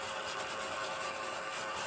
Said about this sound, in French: Bon, allez, du coup, on passe l'aspirateur.